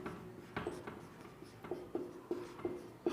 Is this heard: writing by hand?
yes